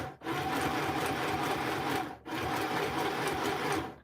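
A sewing machine runs steadily through a junk journal page in two continuous bursts separated by a brief pause, a close, loud mechanical whir with fast needle chatter.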